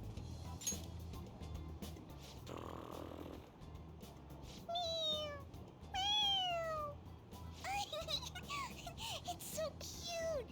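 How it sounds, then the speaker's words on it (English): Toy cat in the Persona 5 Royal video game meowing when its head is pressed, a few rising and falling meows in the second half, mixed with game sounds and girlish voices chattering and giggling. "It meows when you press on its head."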